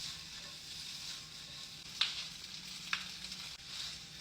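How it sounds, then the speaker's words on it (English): Gnocchi crisp in a hot pan with a steady, close sizzle, broken by a few sharp crackles and pops as the pan is moved. "I like them to be a little crispy, so I'm gonna fry them first."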